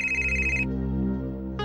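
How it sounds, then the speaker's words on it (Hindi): An incoming call sets off a loud phone ringtone with a bright electronic repeating tone that cuts off after about half a second, leaving a sustained low background music bed before the tone briefly starts again. "इस कुमार को भी अभी फोन करना था।"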